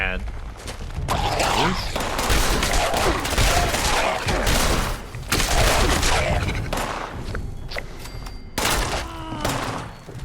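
Rapid gunfire in the video game Fallout 76, dense volleys of shots with thuds and brief gaps, loud and close throughout.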